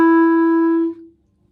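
A single sustained clarinet F sharp played with the first finger and no thumb, a clear steady tone held for about a second before it stops, solo with no talking.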